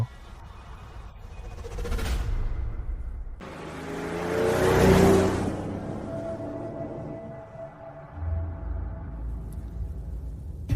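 A car drives along, its engine hum rising into a broad whooshing swell midway and then easing back to a low rumble, with a faint tone and brief sounds at the start.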